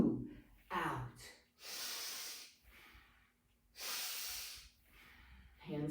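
Someone breathes during a qigong strength session, with long, hissing exhalations through the nose alternating with sharp inhales, close and clear, while an instructor speaks between the breaths.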